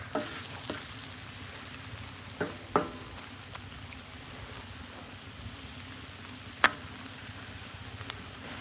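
Chicken fajitas sizzle quietly in a discada over a rocket stove outdoors, a soft steady hiss punctuated by scattered metallic taps and clinks as pieces are turned.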